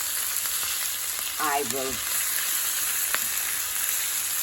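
Thoran vegetables frying and wilting in a pan give a constant close sizzle throughout, with a brief spoken phrase over it.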